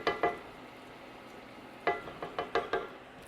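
Butter sizzles in a hot skillet while crab and shrimp ramen cooks, with a couple of sharp crackles at the start, a quiet stretch, then a quick cluster of spitting pops, faint overall.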